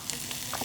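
Ginger and garlic sizzle in a hot frying pan, a soft, steady hiss with faint crackles through a brief moment.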